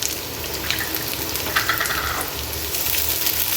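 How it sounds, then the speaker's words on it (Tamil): Green chillies sautéing in a pan while cooking semiya khichdi, giving a steady soft sizzle and hiss that runs unbroken throughout at moderate volume, with no talking. "இப்போ இது முதல்ல நல்லா வசங்கட்டும்"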